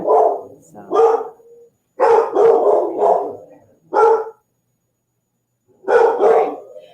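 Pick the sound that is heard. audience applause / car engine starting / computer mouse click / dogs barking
dogs barking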